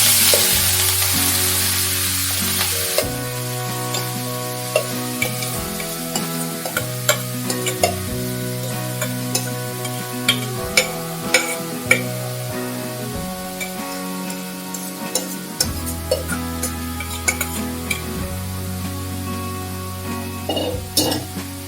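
Grated papaya and other ingredients for Kerala-style papaya thoran are stir-fried in a pan, a loud continuous sizzle with frequent spatula scrapes and clinks against the metal throughout, close up and without speech.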